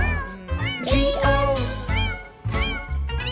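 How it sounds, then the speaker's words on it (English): Repeated sung-style cat meows in a children's nursery rhyme song about a farmer's cat, several rising and falling meow calls over musical backing with light jingling. "There was a farmer who had a cat, and Bingo was her name-o."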